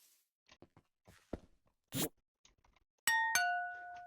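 A Minecraft doorbell rings out with two bright bell tones, the second ringing on and fading, after scattered clicks, taps and a short rustle.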